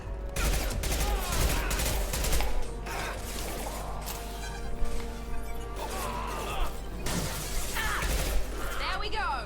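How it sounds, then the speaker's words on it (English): Mass Effect 2 combat brings bursts of gunfire with sharp cracks, shattering impacts and mechanical clatter, irregular and loud over several seconds, with voices talking in between. "Hostiles to the right. Firing an impact shot."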